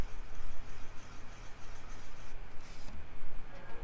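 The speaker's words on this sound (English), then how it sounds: "So right now I'm going to go over here and I'm going to draw a circle." A pen scratches over paper while drawing a circle, a soft, close, continuous scraping that rises and falls with the strokes and carries no talk.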